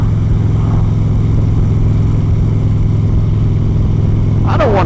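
A Harley motorcycle engine idles up close with a steady, deep, loud rumble that throbs evenly throughout. A brief, higher rising sound cuts in near the end.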